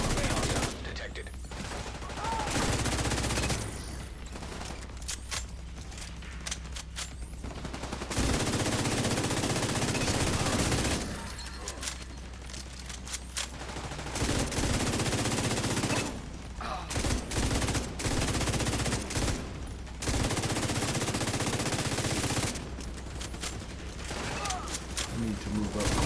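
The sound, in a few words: gunfire in the video game The Division 2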